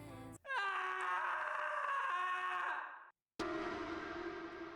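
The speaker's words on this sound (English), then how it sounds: "Then a scream tore through the woods. Sharp, shrill, and unmistakably human." A shrill human scream rings out in a wooded setting in the game Bad Summer, a long sustained wail with echo that cuts off, then a second lower moaning cry follows.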